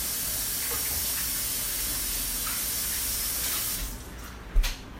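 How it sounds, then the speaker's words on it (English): Hands are rinsed under running water from a tap, a steady close hissing stream that tapers off near the end, followed by a small knock. "let me rinse my hands off"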